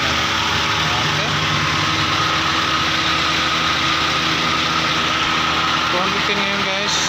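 Toyota Avanza engine running at idle while the aircon compressor's magnetic clutch engages and spins, a steady loud mechanical drone with a fan-like whir, close up, voices talking under it.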